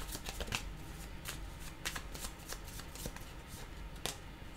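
Tarot cards are shuffled by hand, with a steady run of soft, papery riffles and flicks punctuated by a few crisper snaps, close and fairly quiet with no voices.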